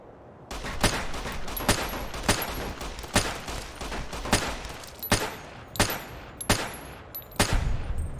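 Repeated gunshots from Fallout: New Vegas, set in the town of Primm, fire in a steady, uneven volley of about a dozen loud, sharp cracks over a constant low rumble, with no talking.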